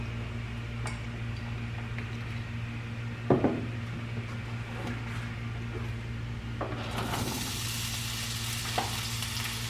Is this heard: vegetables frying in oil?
yes